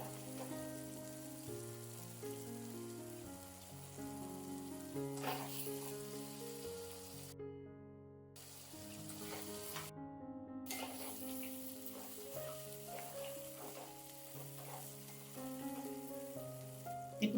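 Cucumber pieces added to fried masala sizzle and crackle in a pan for a home-style mutton and cucumber curry, a steady frying hiss with music playing over it throughout.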